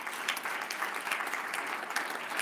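A church congregation applauds in praise of Christ during a French-language worship service, steady dense clapping filling the room without pause, fairly close and even in loudness throughout.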